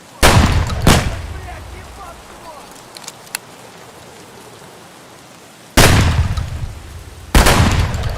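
Escape from Tarkov gunshots, loud sharp reports: two close together at the start, then a quiet rainy stretch with faint ticks, followed by two more loud shots.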